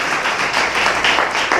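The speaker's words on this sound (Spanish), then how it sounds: "Dele palmas a Dios." Church congregation applauding, a steady dense wash of many hands clapping at once, loud and continuous throughout.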